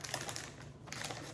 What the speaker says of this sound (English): I'm just going to grab some scissors and cut this open